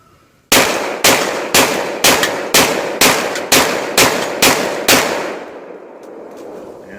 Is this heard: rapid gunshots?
yes